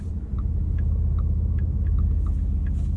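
Porsche Cayenne Turbo E-Hybrid Coupe, 2024, heard from inside while driving: a deep, steady engine rumble with faint periodic ticks above it, loud and close throughout.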